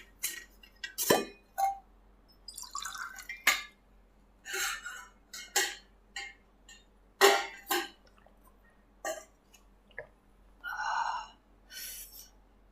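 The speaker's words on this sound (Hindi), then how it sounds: "अब इसको आगे बढ़ने से पहले मैंने थोड़ा पानी वानी पी लिया जाए" Someone drinking water in a quiet room after a long stretch of speaking, with scattered glass clinks, swallows and sharp breaths spread across several seconds, close and fairly quiet, with no talking.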